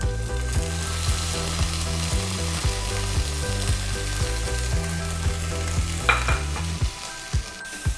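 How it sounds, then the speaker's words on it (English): Garlic, onions and spices sizzle loudly in a pan for a cluster bean dish, a steady fry broken by rhythmic stirring and scraping near the end, with no talk. "Saute them all together until everything is mixed properly."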